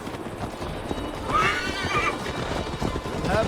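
A horse in Assassin's Creed Valhalla gives a loud whinny over a steady, close clip-clop of hooves, set against a soft game ambience and no speech.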